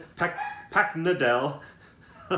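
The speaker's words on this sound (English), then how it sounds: "My dog is barking now" A pet dog barks a few times in a home while someone talks over it about comic books, the barks short and mixed into his speech.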